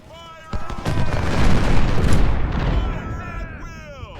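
Massed musket gunfire and booms in the Ultimate General: Civil War video game, a loud rolling volley that swells and fades over a few seconds amid a busy battle din.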